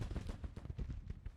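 Skirmishers in a Civil War strategy video game fire rifles in a rapid, uneven crackle of overlapping shots, dense and continuous across the moment with no pauses.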